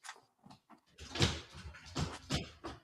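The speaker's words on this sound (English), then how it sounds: "That was the silverware drawer." Silverware drawer pulled open in a home kitchen, a metallic rattling slide of utensils with scraping and clinks, preceded by a few softer knocks, fairly close.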